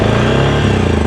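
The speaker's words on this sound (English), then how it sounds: "Seems to be running really smooth, warming up a little bit." A Suzuki King Quad ATV engine idles loud and close, a smooth steady mechanical hum with an even pulsing rhythm and no revving.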